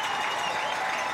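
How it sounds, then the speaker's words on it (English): A stadium crowd at a high school football game cheers and applauds after a touchdown run, a steady distant roar of clapping and voices without a break. "And this crowd is alive at Blue Streak Stadium now after that gorgeous run"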